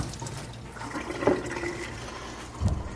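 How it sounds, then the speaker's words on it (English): Water runs steadily at a kitchen sink while hands are washed, with a brief splash partway through and another burst near the end, moderately close and with no one talking. "I'm just going to quickly wash my hands"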